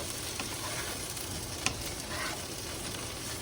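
French beans and cherry tomatoes sizzle steadily in a hot pan, a constant bright frying hiss with a spatula stirring now and then and a single sharp tap partway through.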